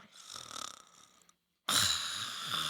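A voice imitating an Uber driver's snoring: a soft raspy snore, a brief silence, then a louder, harsher snorting breath, close and with no words.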